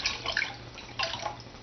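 Salt being poured and stirred into aquarium water with a cup during a water change, giving close splashy sloshing and trickling in two brief bursts with no voice.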